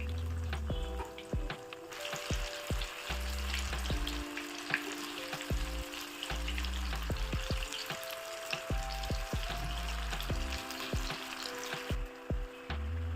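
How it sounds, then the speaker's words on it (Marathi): Chickpeas deep-frying in hot oil for Koliwada chaat, a steady close sizzle and bubbling with occasional stirring clinks, with no talking. "तर आपल्याला एकदम काळजीपूर्वक तळून घ्यायचे आहेत ते चणे."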